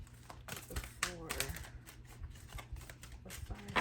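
A tarot card deck shuffled by hand, quick riffling and flicking bursts with soft papery clicks, close and moderately quiet, with a voice speaking over parts of it.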